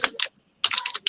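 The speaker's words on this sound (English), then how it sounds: "I'm just typing that out, the author's names" Rapid clicky keystrokes on a computer keyboard come in two short bursts separated by a brief pause, close and crisp, with no talking.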